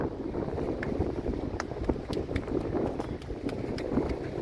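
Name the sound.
wind blowing into the microphone on a seaside headland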